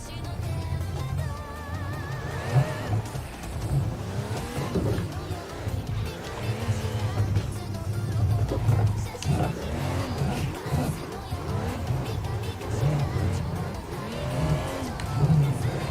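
A drift car in the Assetto Corsa racing game revs hard and continuously, the engine pitch sweeping up and down through the slide, loud and close with a steady background rumble.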